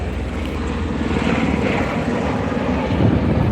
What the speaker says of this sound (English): Those are big, strong plane.